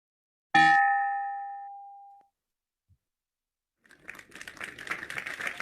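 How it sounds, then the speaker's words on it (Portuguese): A single bell is struck to close a meeting, a loud, clear ring that decays slowly over about a second and a half, followed after a pause by a faint rustling clatter. "o companheiro Marcelo faça a apresentação da filmagem de encerramento da nossa reunião e o sino que fecha efetivamente a nossa reunião, Marcelo."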